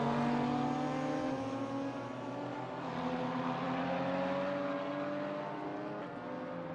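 BMW GT4 race cars at Spa in a sim racing game, a steady, loud droning engine note with sustained tonal whine, holding near-constant pitch as the cars run together, no voices over it.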